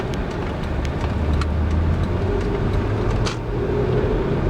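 A car drives along a neighborhood road with a steady, loud engine and tire rumble, the engine pitch rising gently as it speeds up, with faint clicks in the cabin.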